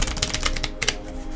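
Cards from a Bluebird Lenormand deck shuffle with rapid crisp ticks and flicks, close and fairly loud, in a short burst.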